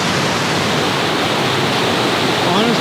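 White water rapids on a backcountry river roar in a dense, constant hiss and rush, loud and close, unbroken for the whole stretch.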